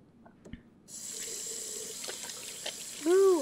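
Hot water runs from a faucet in the video game Captain Spirit, a steady rushing stream starting after a quiet moment with a few small clicks, ending in a brighter tonal gush.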